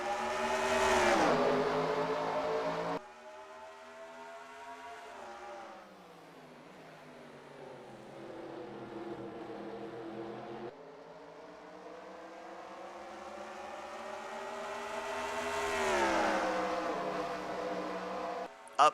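Race car engines in a Watkins Glen stock-car racing video game at the green flag, rising and falling revs as cars accelerate through gear changes, steady and moderately loud with no voices.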